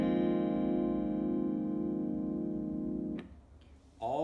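Guitar with all strings barred at the first fret by the index finger, strummed once and left ringing with a long, sustained decay before fading, with a faint touch of the strings at the end.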